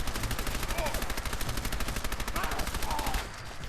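Heavy automatic gunfire in Fallout 4, with a relentless rapid stream of loud, close shots filling nearly the whole stretch before tapering off at the end.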